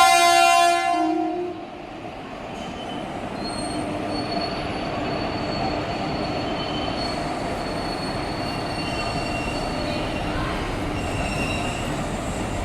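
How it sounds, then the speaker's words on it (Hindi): A passenger train pulls out of Salempur station on the Bhatni–Barhaj Bazar line, first with a brief horn blast, then a steady loud rumble of rolling wheels and carriages with faint squeals. "तो अपने टाइम से 2 मिनट के डिले के साथ हमारी ट्रेन निकली है अभी सलेमपुर से"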